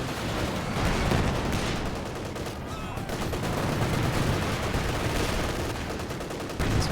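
An artillery barrage in a competitive online war game match, a dense continuous roar of overlapping booms and gunfire, loud and sustained throughout.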